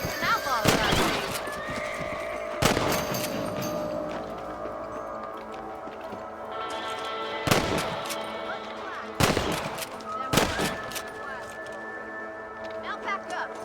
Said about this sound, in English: Get your rifle out. It's about time these little thieves met their maker.